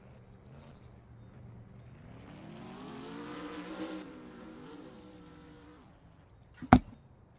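Race car at the 51DRS Patriot GP feature, its engine revving up and sweeping in pitch as it circles doing donuts, rising to a peak midway then fading, ending with a sharp loud knock.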